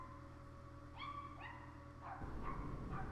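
Small pet dogs give a few faint, high yips and whimpering barks, distant and quiet, over a low background hum.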